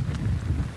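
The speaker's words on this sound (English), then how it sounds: "So this is the wind right now, sustained about 35 miles an hour." Strong sustained hurricane wind roars across an outdoor microphone during Hurricane Harvey, a steady low rumbling buffet with no clear pauses, loud and close for under a second.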